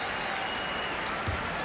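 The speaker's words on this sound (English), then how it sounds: "nice reaction from this crowd" Crowd at a New Jersey Nets basketball game reacts to Cliff Robinson's debut with sustained applause and cheering, a broad steady roar filling the arena under faint commentary.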